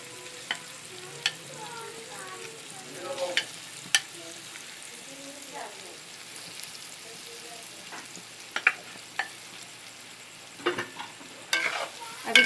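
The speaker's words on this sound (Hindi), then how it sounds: "अब इसको हम इसी स्टेज पर तकरीबन भी 10 मिनट तक हम इसको तेल में फ्राई करेंगे" Chopped dried dates (chhuhare) fry in oil with a soft continuous sizzle, broken by irregular sharp clicks and scrapes as they are stirred in the pan.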